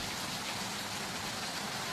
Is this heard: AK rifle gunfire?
no